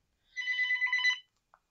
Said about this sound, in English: The phone is ringing. Where's the phone?